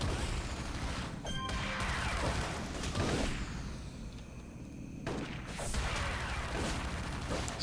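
Auto turret gunfire in the City of Heroes video game: dense, rapid bursts of shots and crashing impacts in two loud stretches, with a brief quieter gap between.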